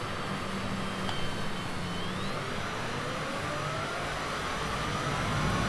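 Steady, loud airplane engine drone from a flight simulator video game during takeoff from a runway, a continuous broadband roar with faint shifting tones and no speech.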